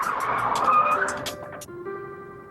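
Tires squeal loudly as a car skids through a J-turn, the high screech rising and wavering over engine noise, then shifting abruptly to a steadier tone before fading.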